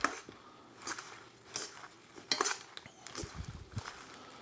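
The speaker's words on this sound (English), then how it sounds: "I wanna come in and toss this in the oil" Lettuce tossed in hot bacon grease in a pan, heard as scattered clinks and scraping utensil clatters with soft rustles between them, fairly faint and close, with no talk.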